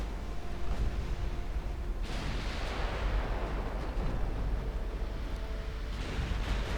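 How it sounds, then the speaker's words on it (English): Battlecruisers in Ultimate Admiral Dreadnoughts fire armor-piercing shells: a heavy booming salvo bursts out, followed by a rumbling roar and further distant gun blasts over a low background drone. "Force my battlecruisers to fire AP at the enemy battlecruiser."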